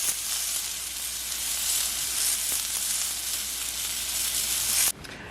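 Chicken and beef kabobs sizzle on a Blackstone griddle, a steady loud frying hiss that runs unbroken, then drops suddenly near the end.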